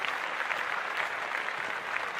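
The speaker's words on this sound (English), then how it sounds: "Clap it up. Clap it up." Steady applause from a studio audience or podcast hosts fills the moment, a dense continuous patter of clapping at moderate level with no talk over it.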